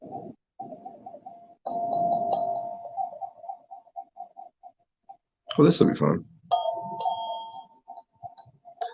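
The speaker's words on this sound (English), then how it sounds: "It's like a tubular bell or something." A tubular bell chime toy rings out with clear, sustained tones in a few struck bursts, a brighter jangle mid-way, close by, while a person talks over and between the ringing.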